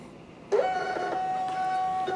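A 4x6 shipping label printer whirs into action after a short click, feeding a label with a steady mechanical hum and a sustained tonal whine, close and fairly loud.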